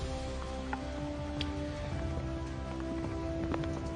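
Afternoon rain at Raisina Hill, a steady, soft patter of drops on surfaces with a few scattered louder drips, faint and continuous over a low background hum, with no voices.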